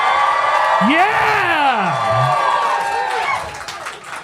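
A large audience erupts in loud cheering, whooping and shouting, a sustained roar of many voices with individual yells rising above it.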